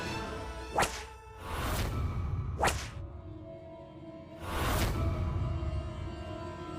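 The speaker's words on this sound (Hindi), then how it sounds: "ये तो चाबुक की आवाज थी।" Several sharp whip cracks, each a sudden broadband snap with a swishing tail, spaced irregularly over a low background rumble, fairly close and loud.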